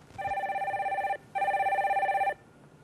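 Telephone ringing on a live call-in broadcast as a caller is connected, two long electronic rings with a short pause between them, clear and steady.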